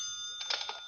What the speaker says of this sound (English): That's my phone.